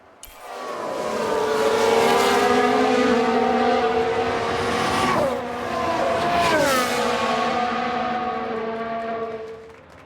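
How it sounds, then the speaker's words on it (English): A Formula 1 car in F1 Manager 22 (1995 Jordan season) screams past with a high engine whine that swoops down in pitch twice, loud and close, with a brief squealing break in the middle. "Sounds like a spin."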